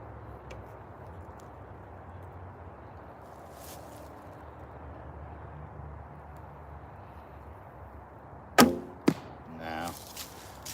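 An arrow leaves a bow with a sharp, sudden thwack, followed moments later by a second hard snap, both standing out against quiet outdoor background hiss after a long stretch of near silence.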